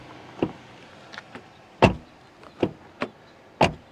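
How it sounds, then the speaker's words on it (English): Rear door of a 2025 BMW X1 xDrive 28i being handled, giving several sharp thuds and clicks spaced irregularly, with two firm louder slams standing out close by, no talk. "Let's even listen to the rear door."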